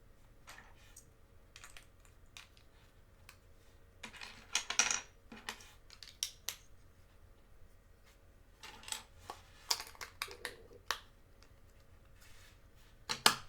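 Small plastic Lego bricks from a Star Wars set click and tap together up close, with scattered sharp snaps and light rattles in irregular bursts against a quiet background.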